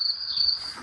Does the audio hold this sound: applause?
no